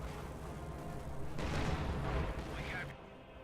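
Mortar fire in Company of Heroes 2 on the Western Front, heavy booming blasts and rumbling explosions building into a dense, loud battle wash with distant gunfire, commentary voice underneath.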